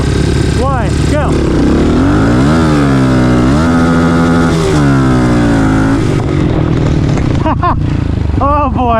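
A Honda CRF110 pit bike with a 147cc big bore kit revs hard and accelerates, its engine pitch climbing and falling through repeated surges, loud and close, with the clutch slipping.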